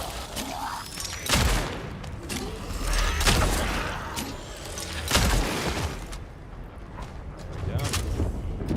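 Heavy shotgun blasts from the horror game Cronos: The New Dawn, several loud booming reports spaced a second or two apart against a rumbling, creaking game ambience, with a voice talking between shots.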